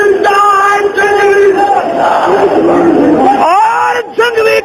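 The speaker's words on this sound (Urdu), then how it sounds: "نعرہ مل کے زور سے لاؤ، ذرا مل کے نعرہ لاؤ" A large crowd chants a slogan together in unison at a religious poetry recitation, a loud, dense mass of voices that surges, briefly drops out near the end, and then resumes.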